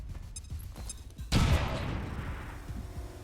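Grenade explosion in XCOM 2 Long War of the Chosen, a single sudden loud blast after a few quieter clicks, followed by a decaying rumbling tail.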